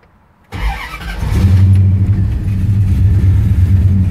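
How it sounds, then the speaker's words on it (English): A car fitted with Holley Sniper EFI fuel injection cranks briefly, then catches and settles into a loud, steady running engine, close up with no talk. "So now what I'm going to do is I'm going to start the car."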